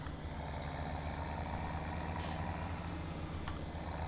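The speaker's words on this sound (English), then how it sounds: "So we'll back a trailer up here" A truck in Farming Simulator 17 backs a long trailer toward a loading ramp, its steady low engine drone holding loud and close throughout, with a brief hiss near the middle and a faint beep toward the end.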